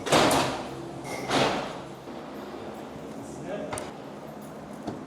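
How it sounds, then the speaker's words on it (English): Heavy doors in a prison cell block slam and clatter shut, with loud thuds near the start, more impacts around a second in, and lighter metallic knocks later, all over a busy, echoing background with voices talking. "Let's close the doors."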